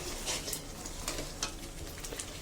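Spice paste with turmeric stir-fried in a pan for goat curry with chui jhal, giving a steady close sizzle broken by scraping stirs and small pops, with no talk.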